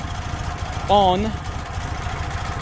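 A cold Fiat 126p engine idles roughly with the choke partly on, a close, steady, uneven rumble throughout, while someone briefly speaks over it.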